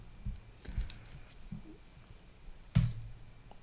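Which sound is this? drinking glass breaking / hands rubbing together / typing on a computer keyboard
typing on a computer keyboard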